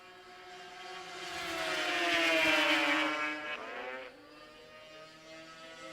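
Ski-Doo IFS 440X racing snowmobiles roar past at a power toboggan championship, engines rising to a loud high-revving whine as they close in, then sweeping away with a falling pitch.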